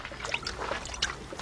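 Coolant bubbling and trickling in a funnel set in the radiator neck of a Honda Passport-type SUV during a cooling-system refill, with soft gurgles and small pops close by, faint and continuous.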